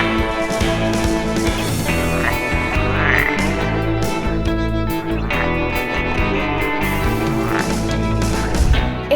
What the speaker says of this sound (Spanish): Me despido de este recorrido acompañada de un animal muy peculiar, ranas o anfibios.